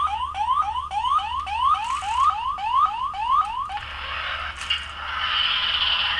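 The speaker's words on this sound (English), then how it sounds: "God, the other Morph is making noises." A Power Rangers toy morpher gives off a rapid run of rising electronic sweeps, about a dozen repeating chirps like a car alarm, followed by a hissing, crackly electronic burst, close by with no talking.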